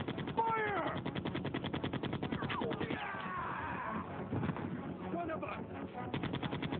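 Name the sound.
gunfire in the Resident Evil video game Wesker's Report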